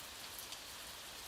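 Steady rain falls in a dense, even hiss without pause, alone and close throughout.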